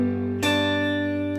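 A guitar chord played with the thumb wrapped over the top of the neck to fret the sixth string and mute the fifth. A soft note is followed by one bright strum that rings out steadily with no talking.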